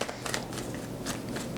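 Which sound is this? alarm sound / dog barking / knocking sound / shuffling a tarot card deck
shuffling a tarot card deck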